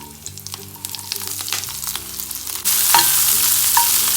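Cut green chillies drop bit by bit into hot oil with mustard seeds and fenugreek, giving a steady close sizzle with light stirring, which turns into a much louder, fuller hiss partway through.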